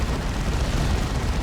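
A Manticore strike detonates in a Dawn of War 2 real-time strategy match, producing a loud, continuous broadband rumble of explosions that lasts the whole moment with no talk over it.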